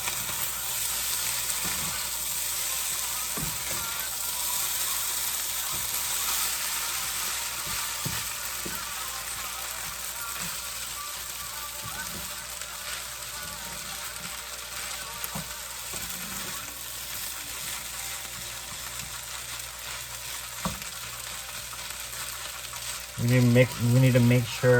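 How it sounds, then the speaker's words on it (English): Fried rice scooped and stirred in a hot frying pan, a steady sizzle with intermittent scraping knocks of the utensil against the pan bottom, while a person talks over it. "I'm kind of like scooping everything, scooping the bottom and mixing everything together well."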